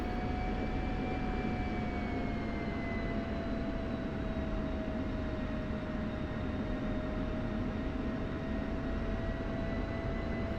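An F-16C jet engine in the DCS flight game holds a steady, dense roar with a high whining tone while taxiing, constant and loud throughout with no voices.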